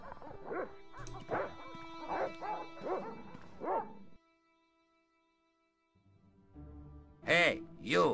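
Dogs in the Broken Sword video game bark in a run of sharp, evenly spaced yaps, fall silent for a couple of seconds, then return with louder, closer barking.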